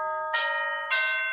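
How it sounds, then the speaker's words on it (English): A doorbell at a home rings twice in a quiet room, two clear chime tones about half a second apart, each holding and fading a little, moderately soft with no talking. "it's the doorbell rang"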